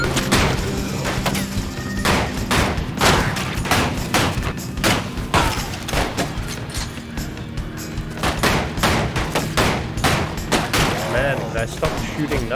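Rapid gunfire in the Western roguelite game Colt Canyon, a dense stream of sharp shots and thuds fired in quick bursts for the whole stretch, steady and fairly loud.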